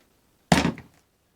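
A single dull thunk as a flat MDF board is set down on top of a wooden drawer to form an ironing station, close and clear, with a brief short tail and no other sound around it.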